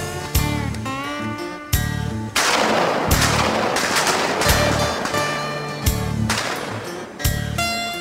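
Loud sharp shots ring out repeatedly in uneven bursts, some spaced apart and some in quick succession, each with a long echoing tail, over a musical backdrop with steady tones.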